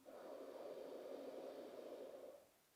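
A long, steady deep inhalation during a sophrology stress-relief breathing exercise, a soft airy rush held for over two seconds and then fading out, close and alone.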